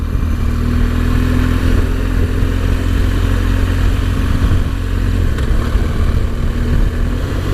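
A BMW R1200GS motorcycle rides steadily, its engine a loud, close, continuous drone with constant wind rush and no break throughout.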